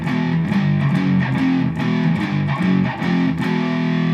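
Distorted electric guitar playing a riff with the strings left unmuted, loud and sustained, with repeated chugging phrases ringing out alone.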